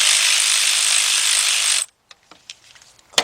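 A ratchet with a 10mm socket loosens a nut on a Trailblazer engine, a rapid continuous clicking ratchet run that stops abruptly, followed by a few faint clicks and taps up close.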